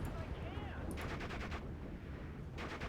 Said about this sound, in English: That machine gun is getting to be an issue.